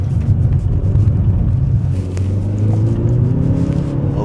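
A 2016 Hyundai Veloster R Spec is driven hard through a roundabout in second gear, its engine droning loud and close with rising and falling revs over a low road rumble, with no talking.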